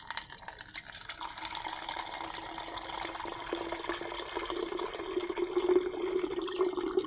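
Water pours steadily into a big jug for several seconds, a continuous close splashing gurgle whose pitch rises gradually as the container fills, with no voices over it.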